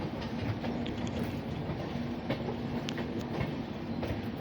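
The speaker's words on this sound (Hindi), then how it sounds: "यहाँ पर हमारी ट्रेन 1326 किलोमीटर की दूरी तय करके पहुँच गई है वसई रोड रेलवे स्टेशन पर" The Kerala Rajdhani Express, bound for Hazrat Nizamuddin, rolls into Vasai Road railway station, giving a continuous near rumble of coaches on the track with occasional wheel clacks and a faint squeal, and no one speaking.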